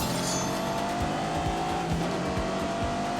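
A 626-horsepower car in The Grand Tour Game revving and accelerating hard, its engine note climbing steadily through several rising pitch sweeps with quick gear-change dips, loud and continuous throughout.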